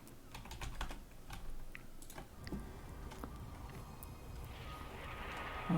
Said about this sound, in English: Sorry, I was typing, so I had a bit of a brain lag.